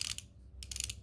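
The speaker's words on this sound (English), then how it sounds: "back and forth, and it still turns the ratchet the correct way" A ratchet tool on a John Deere machine clicks in two quick bursts of sharp, rapid, close metallic ticks as the handle is swung back and forth, with a short pause between them.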